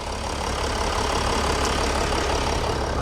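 A 2007 Mercedes E320 BlueTec V6 turbo diesel idles with the hood open, giving a steady close rumble and faint diesel clatter throughout, with no voice.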